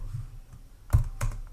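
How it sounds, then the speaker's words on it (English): Computer keyboard keys are typed during a coding session, with a few quiet taps followed by two sharper clusters of clicks near the end of a short, quiet stretch. "I'll start typing flex"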